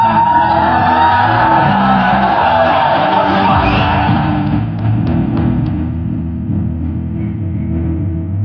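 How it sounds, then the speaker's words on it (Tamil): A large crowd at an Irumbu Thirai music launch event roars with sustained shouting, whooping and cheering, loud and dense throughout before gradually easing off near the end. "இந்த கூட்டத்தில் இந்த அளவுக்கு சத்தம் யாருக்குமே வந்ததில்லை சார்"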